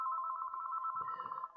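Telephone ringing in the video game Pesterquest: a steady electronic trilling tone, clear and close, over faint background noise that fades near the end.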